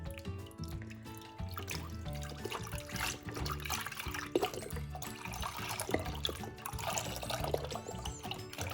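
Milk pours steadily into a pot for homemade cheese, a continuous liquid splashing and trickling that runs close and moderately loud for several seconds with no talk.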